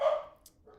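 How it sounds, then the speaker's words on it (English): A little corgi gives a single short, fairly faint bark indoors, followed by a softer trailing yip. "sorry if my dog is loud. I'm not sure how loud it's coming up on the stream. He's a little corgi."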